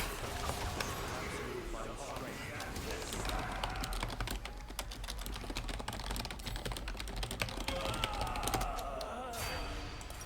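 Rapid keyboard typing and mouse clicking during a League of Legends match, a steady dense patter of close keystrokes throughout, with a player talking over it.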